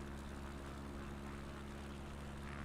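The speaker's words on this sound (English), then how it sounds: "Come on, plane. Lose some speed, please." Steady droning engine of a propeller bush plane on landing approach in Papua New Guinea with flaps fully extended, a constant loud hum with low tonal bands and no voices.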